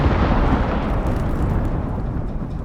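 A loud, sustained crackling rumble of a lightning strike during a storm in the survival game Icarus, broadband and steady across its length with no voices.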